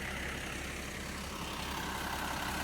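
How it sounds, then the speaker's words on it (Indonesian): A Hino bus engine idles at a quiet night bus terminal, giving a steady, low, continuous rumble at moderate distance with no other distinct sounds. "Ini mesinnya mesin Hino kah?"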